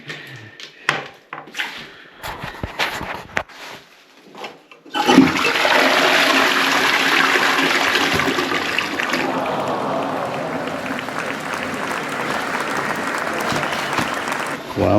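A brand new plumbed-in toilet in an old cottage flushes with a loud rushing surge of water that keeps roaring steadily, preceded by clunks and handling noises.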